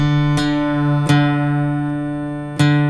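A guitar's D string rings out during tuning, plucked three times, each attack bright and followed by a long, steady sustain.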